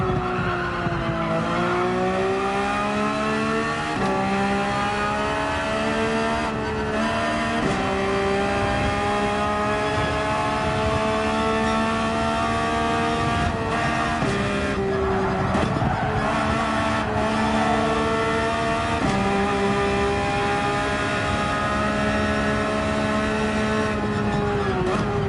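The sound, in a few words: Porsche 911 racing at Yas Marina Circuit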